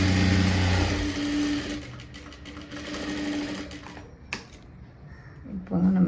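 A sewing machine stitches the lining of a blouse sleeve, a steady fast mechanical whir and needle clatter close by that slows, stops, then briefly starts again, with a voice talking over parts of it.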